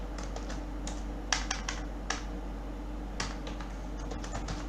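Light, irregular keystrokes of someone typing code on a computer keyboard click close by over a steady low hum, with a few sharper taps standing out and no speech.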